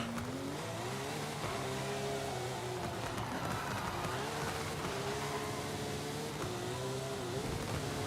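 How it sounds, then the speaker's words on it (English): Off-road vehicle driven hard in a race in Forza Horizon 5, its engine droning loud and steady throughout with repeated rises and dips in revs as it bounces along rough terrain. "I knew there was a reason I brought an off-road vehicle to this race."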